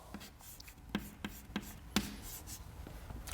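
Chalk or pen strokes during a mass transfer lecture, a series of short, distinct taps and scratches spaced irregularly against a quiet room, close and fairly soft.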